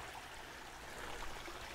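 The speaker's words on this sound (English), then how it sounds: "the turtle hit the water and he's swimming around now" A turtle drops into a lined backyard pond and paddles about, leaving a soft, continuous trickle and wash of moving water close by with no voices.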